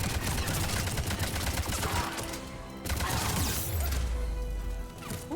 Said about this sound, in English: who is shooting me in the ass?